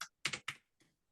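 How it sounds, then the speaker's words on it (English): Computer keyboard keys are struck close up in a short cluster of taps, a few clicks in quick succession and then one fainter press, with no talking. "Don't judge my typing."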